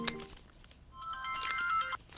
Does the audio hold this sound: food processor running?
no